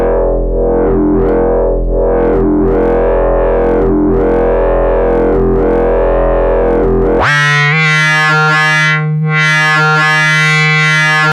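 Loud, buzzy synthesizer tone with its filter cutoff swept by an Instruō cnōc module, pulsing in a slow wah-like rhythm before jumping abruptly to a higher, brighter, harmonically rich sustained note.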